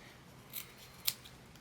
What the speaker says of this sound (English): go ahead and cut down the liner and the exterior seam allowances